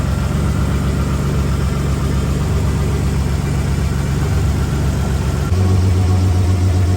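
A car engine idles steadily after starting, a loud, close, even low rumble holding for several seconds with a slight shift in tone near the end, no voices.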